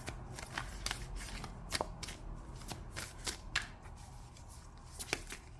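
Tarot cards are shuffled up close, a run of quick papery riffles and flutters with small gaps between bursts, soft but clear.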